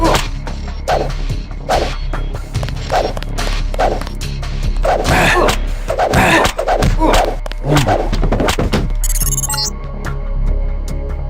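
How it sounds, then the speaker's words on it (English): Baton strikes on a guard in the video game Deus Ex Nameless Mod: a rapid run of sharp swinging thwacks and whooshes over a steady droning game background, ending with a brief high clatter. "Pick up the baton next to him and knock him down."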